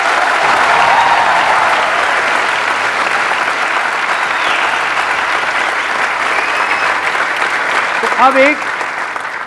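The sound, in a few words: audience applause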